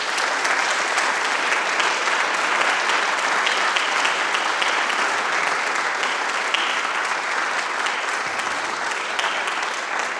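An audience at an alumni honors celebration applauds steadily as Dr. Robin Holmes Sullivan is welcomed to the podium, a dense, even wash of clapping that holds for the whole ten seconds.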